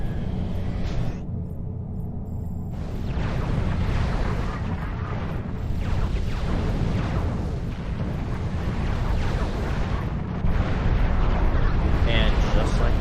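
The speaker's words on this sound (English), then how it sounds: "Only time will tell if those long-range artillery guns will be able to take it down." Long-range artillery guns firing in a battle game, a dense continuous rumble of booms and blasts rolling together for the whole stretch, loud and sustained with a small lift near the end.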